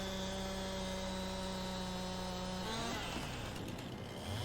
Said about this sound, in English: The Stihl chainsaw, guys, is doing an unbelievable job here.